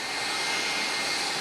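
Jet airliner taxiing in to its gate at O'Hare, a loud, steady engine roar and whine with no break.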